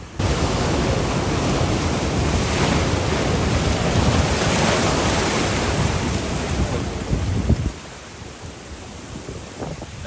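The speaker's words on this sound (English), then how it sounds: "That was a big wave" Ocean waves break in a rocky intertidal zone on Catalina Island, a loud continuous wash of surf and churning water with wind buffeting the microphone, easing slightly toward the end.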